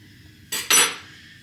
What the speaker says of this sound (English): We're going to take a knife underneath of it and help transfer it